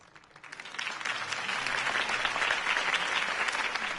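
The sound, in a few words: crowd applause after a campaign speech in a video game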